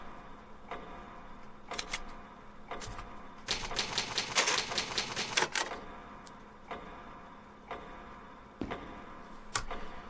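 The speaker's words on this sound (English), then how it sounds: "It's an old typewriter. You can save your progress." An old typewriter in the Resident Evil 1 Remake video game, a run of sharp mechanical key strikes, scattered clacks and a denser burst of rapid typing, fairly close with no voices.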